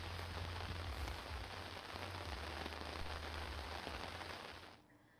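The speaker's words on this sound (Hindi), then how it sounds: "कानपुर, लखनऊ में हल्की बारिश हो रही है" Light rain pattering steadily on a surface, a broad even hiss with scattered drops, holding through most of the stretch before cutting off near the end.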